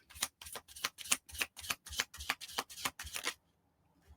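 A deck of playing cards riffled and shuffled in a quick run of about a dozen crisp, close flutters, then stopping into near silence.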